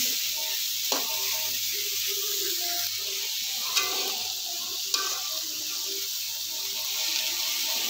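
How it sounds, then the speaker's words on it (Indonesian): Vegetables sizzle steadily in a hot pan while being stir-fried until wilted, with a constant frying hiss, occasional clinks and scrapes of the utensil, close and continuous. "Kita masak hingga agak layu sayurannya ya teman-teman."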